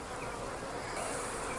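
Agitated honey bees swarm and hum at an open hive, a dense, continuous close-up drone of many wings with no talk over it.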